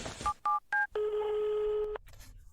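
A telephone call fails to connect: a few short dialing beeps, then a steady flat tone held for about a second before cutting off, heard alone and fairly loud.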